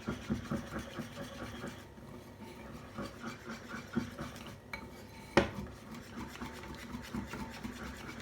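Thai peanut noodles get stirred and tossed in a pan, with a utensil rubbing and scraping against the metal in irregular strokes and one sharp clank, close and fairly quiet.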